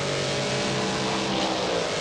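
Toyota Supra race cars in an Australian Drivers Championship race power down the straight, engines roaring loud and continuous with a steady high-revving drone that swells slightly as they accelerate, no voices over it.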